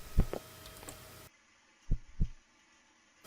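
Heartbeat effect in the horror video game One Late Night, a couple of double thumps, close and distinct, the second pair heard over near silence after the background drops out.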